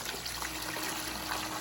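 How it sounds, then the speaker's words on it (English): Water trickling and pouring steadily into a laboratory plant-distillation apparatus, a continuous close liquid wash with no talk. "So, you add water."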